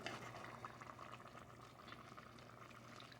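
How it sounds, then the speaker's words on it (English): Homemade chili simmers in a pot, a quiet continuous bubbling and popping close by over a faint low hum, with no talking. "Got a good simmer going on this side."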